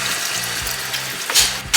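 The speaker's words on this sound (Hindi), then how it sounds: "अब इसमें हम पानी डाल के रख देंगे" Water poured into a cooking pot for an Indian dish after green chillies are stirred in, a steady loud rushing splash that swells near the end, with no talk.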